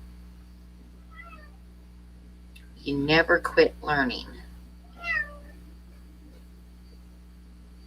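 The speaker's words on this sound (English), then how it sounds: "I got to let my cat out because that's why it's meowing away there and scratching at the door" A house cat meows several times in a short burst at a door, the cries close and loud, followed by one more meow after a pause, set against a low steady background hum; someone speaks briefly.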